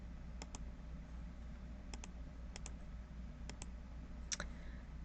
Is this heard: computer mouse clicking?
yes